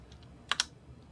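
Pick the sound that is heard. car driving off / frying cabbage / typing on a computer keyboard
typing on a computer keyboard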